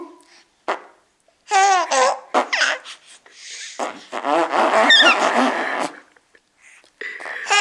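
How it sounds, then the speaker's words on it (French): A father blowing raspberries on a baby's belly, giving loud, wet, buzzing bursts mixed with the baby's excited squeals and giggles, spread over several seconds with short pauses between. "Papa, il pète sur le bidou."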